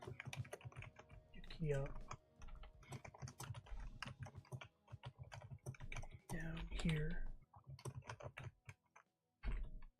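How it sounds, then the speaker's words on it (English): Close computer keyboard typing clatters in quick irregular bursts under someone talking casually, the keystrokes crisp and clicky across the whole stretch. "Your keyboard is coming through though"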